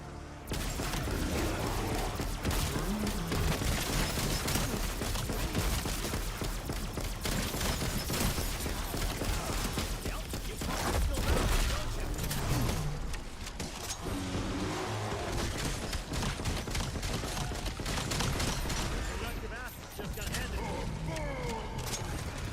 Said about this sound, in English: even ray gun blasting